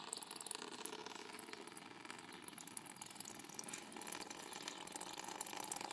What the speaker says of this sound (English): I'm going to loosen it and it'll start draining here.